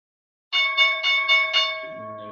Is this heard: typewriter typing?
no